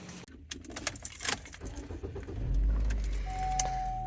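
A car named Lady Jane idles close by in a store parking lot, its low engine rumble swelling toward the end, with keys jangling and scattered light clatter over it.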